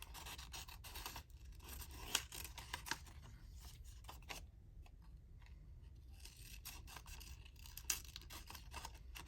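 Scissors cutting through paper during a crafting session making random ephemera: close, crisp snips and rustling scrapes in an irregular run, with no voices.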